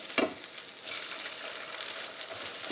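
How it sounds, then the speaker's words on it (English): An egg sizzles and crackles steadily in a hot pan just after being flipped, with a sharp tap at the start and continuous close frying noise, no talking, while a fried egg and hash sandwich is being made. "let's flip this egg."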